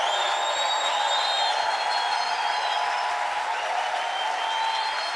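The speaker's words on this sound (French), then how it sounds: "acclame Dieu royalement dans la maison" A congregation at a church service in the house of God breaks into sustained, dense applause that holds steady and loud throughout, with faint cheers and whoops rising above the clapping.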